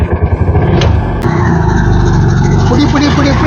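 A road vehicle drives off with a loud, close engine that chugs briefly and then settles into a steady, sustained revving drone.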